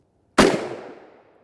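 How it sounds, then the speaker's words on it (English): A single sharp gunshot from a 20-inch SKS rifle fired at a hard armor panel, loud and close, with a sudden crack followed by a decaying echo tail lasting about a second. "I shot that one way too high, folks."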